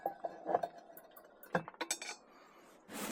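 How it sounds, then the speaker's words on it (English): Heavy cast iron pot lid set back on at an outdoor camp cooking spot with a firebox stove, giving several close metallic clinks and clanks in two short bursts, then quiet before a soft rush of wind noise. "And put this lid back on."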